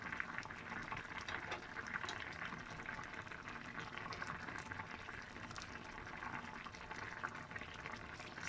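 A pot boiling on the stove while fish and okra steam, a soft continuous bubbling and hiss, fairly faint and steady without talk.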